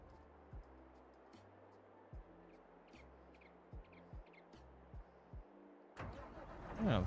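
A TTV tractor engine in a farming game cranks over with a repeating rhythmic starter chug, each cycle marked by a thump, then catches and rises into a louder running roar at the end.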